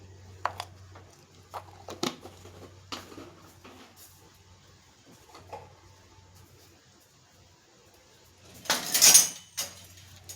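A spoon stirs a powder of dry ginger, black pepper and cardamom into a junnu mixture, with sporadic light clinks and scrapes against the pot and one louder clatter near the end.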